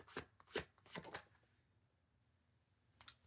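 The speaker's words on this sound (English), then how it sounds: "let me pull 2 more cards" Tarot cards being shuffled close by: a run of quick riffling, slapping bursts over the first second and a half, then quiet, ending with one more short flick of cards.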